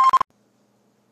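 Telephone keypad tones, three quick bright bursts in rapid succession, loud and close, followed by near silence.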